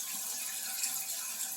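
Water rushes steadily into a toilet tank as the supply is turned back on after a flapper pump replacement, a continuous hissing flow at moderate level with no voices.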